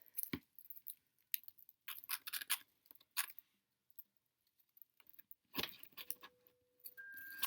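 Aluminium foil is crinkled, wrapped and bent by hand into a small sculpture, close sharp crackles coming in irregular bursts with short quiet gaps.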